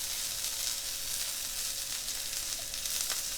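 Homemade butter melting on pancakes in a hot pan, a close, steady hiss of sizzling and frying that holds constant throughout.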